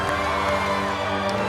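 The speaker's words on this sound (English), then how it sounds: "Everyone celebrates not being crushed to death by cheering" A crowd cheering in a Ms. Marvel scene, a dense, loud, continuous roar of voices and shouts that stays steady and close throughout.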